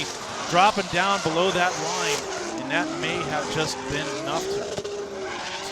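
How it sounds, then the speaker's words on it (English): Competition drift cars slide through a course at a round of the Klutch Kickers series, their engines howling and tires screeching continuously beneath an excited commentator's voice. "Bradley St. Germain is still trying to maintain drift and work his way through the course."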